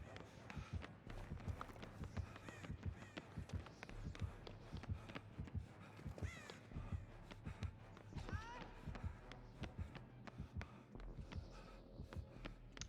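A video game character runs with continuous rapid footfalls, soft and evenly paced over a busy game soundscape with a low hum and occasional tonal effects.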